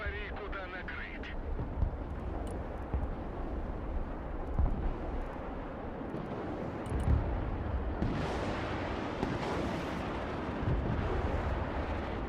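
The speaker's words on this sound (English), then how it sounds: "That is a lot of cruise missiles." Cruise missile strikes and explosions in the war video game Broken Arrow, a dense, continuous rumble of blasts with scattered sharper impacts and a louder surge near the end, under voices.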